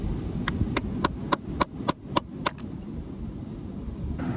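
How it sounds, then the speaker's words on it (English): A metal chisel struck against rock to free an embedded fossil on the Lyme Regis shore: nine sharp, close taps at a steady, even rhythm over a low outdoor rumble, then only background ambience. "I'm going to try and see if I can chisel this out"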